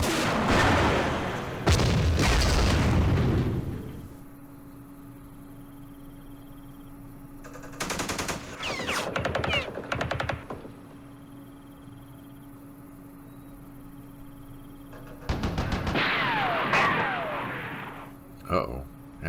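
Anti-aircraft guns in the Vietnam war game Campaign Series Vietnam fire in loud rattling bursts with booming low thuds, three separated volleys over a quiet hum, with brief talk overlapping.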